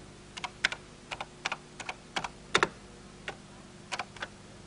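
Keys tapped on a computer keyboard while a turtle-graphics command is entered, a dozen or so separate clicks in short uneven bursts, close and clear with no voices.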